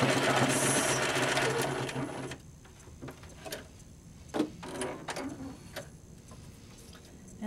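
A Spiegel 60609 sewing machine running a straight stitch, humming steadily and loudly for about two seconds before stopping, followed by a few faint mechanical clicks and handling taps.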